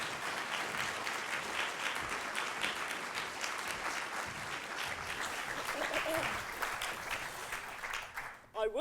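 Sustained applause from a lecture audience welcoming Professor Pam Cox to an inaugural evening lecture, a steady dense clapping of many hands that carries on for several seconds and then tapers off abruptly.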